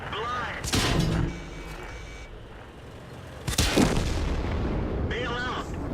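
Tank cannon fire in the World of Tanks video game: two loud booming shots about three seconds apart, each with a long rumbling tail, over steady battlefield background noise.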